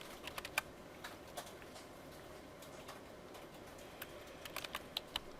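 Quiet, sparse keystrokes on a computer keyboard, irregular clicks clustered in short bursts with pauses between them.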